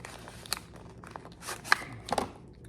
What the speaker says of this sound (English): I'm trying not to tear the box up now.